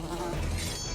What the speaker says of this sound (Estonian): Mu toidu peal on kärbes.